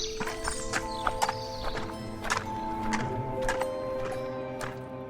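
A horse neighs and its hooves clip-clop steadily through a forest in a dramatized horror story, loud and close, with a layered ambient backdrop.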